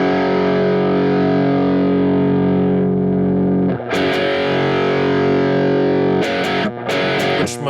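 Electric guitar strummed through a Tube Screamer overdrive pedal set to its OD1 mode, giving a loud, sustained distorted chord that rings for nearly four seconds, then a few sharper restrummed chords with brief gaps between them.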